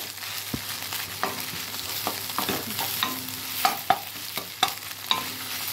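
Steady frying hiss in a pan, broken by irregular scrapes and taps of a spatula stirring the food, moderately close and continuous.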